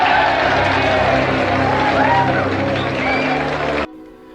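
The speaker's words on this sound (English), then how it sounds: "The whole world seems to be cheering, filled with elation" A large crowd cheers in a film scene, a dense continuous roar of voices and whoops with excited shouting, loud and sustained before cutting off abruptly.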